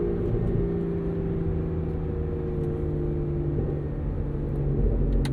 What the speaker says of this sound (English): a naturally aspirated 6-liter V12